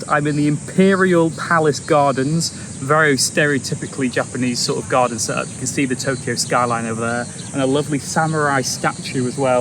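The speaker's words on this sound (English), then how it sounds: "The cricket's probably in the background." Crickets in the Tokyo Imperial Palace Gardens keep up a thin, constant high-pitched chirring in the background, while someone talks loudly and continuously close by.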